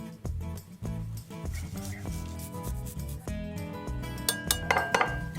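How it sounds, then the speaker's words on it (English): Four garlic cloves rubbed across a handheld zester in a home kitchen, giving a steady scraping rasp in quick repeated strokes with light metallic clinks near the end, close and moderately quiet. "And then I'll also use a zester to grate in 4 cloves of garlic."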